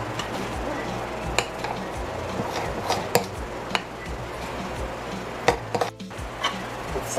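Rum cake batter being mixed in a bowl, with steady scraping and stirring broken by sharp clinks of a utensil against the bowl, close up, under a faint background voice.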